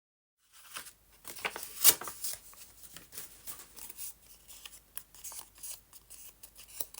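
Close, quiet snipping and rustling as scissors cut a shape out of paper or card for a painted decoration, in uneven bursts with no talk.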